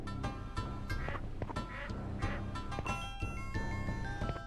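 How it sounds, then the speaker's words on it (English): Ducks quack in repeated bursts in the video game Skies of Arcadia Legends, fairly quiet and mixed with steady game music and sound effects, with no talking. "Ducks."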